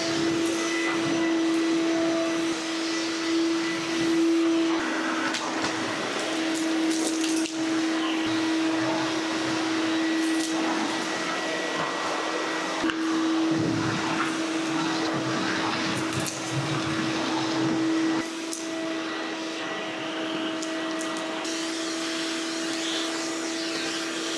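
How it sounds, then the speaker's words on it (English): A household vacuum cleaner runs continuously with a steady whine and drone, its pitch shifting slightly as it moves during home cleaning. "Got my power lead back, I can finally vacuum."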